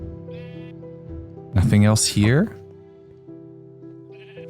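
Blocky sheep in Minecraft bleat in two loud wavering calls at mid-clip, with a person talking quietly before and after and a steady music drone underneath.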